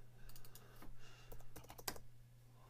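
Light clicks of a computer mouse while working in mixing software during an EQ session, a handful of soft, irregular taps over a low steady hum.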